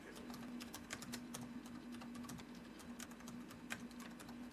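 Keys tapped on a computer keyboard while entering text into an Excel spreadsheet, a quiet, steady patter of irregular clicks over a constant low hum.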